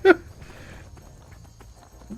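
A horse's hooves clip-clop in Skyrim with one sharp hit at the start and lighter, scattered hoof knocks after it, fairly quiet under faint background noise.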